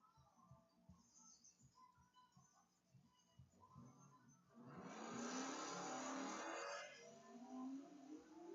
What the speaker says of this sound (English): Gary in a 1969 Chevy Chevelle burning out in the Mutual Propane burnout box